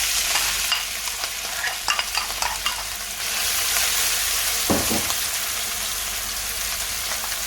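Oil heating in a pan for a Sri Lankan nasi paste sizzles in a steady, close, bright hiss, with a few soft stirring scrapes and clinks breaking through.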